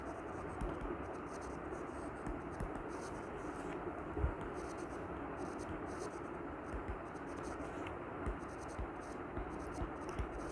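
Quiet scratching of writing on a board or paper during a chemistry lesson on cracking, with faint irregular scrapes and taps continuing steadily at close range.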